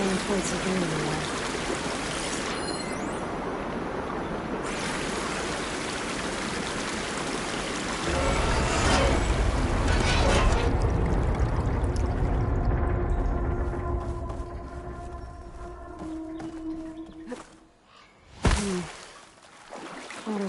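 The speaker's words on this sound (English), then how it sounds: "Water's flowing towards the drain in the wall." Water flowing toward a drain in a wall in Horizon Forbidden West, a continuous rushing, trickling stream that swells midway then thins out, with game speech over it.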